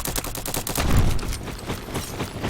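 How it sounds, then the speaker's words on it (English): Close-range gunfire in the Roblox shooter Bad Business: a loud, rapid series of shots fired in quick bursts, with no talking. "That's a shotgun. Close range"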